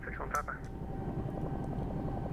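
A Bell 222 helicopter in the X-Plane 11 flight simulator, its rotor winding back up to speed with a steady low engine and rotor drone, close and continuous, while a voice talks over it.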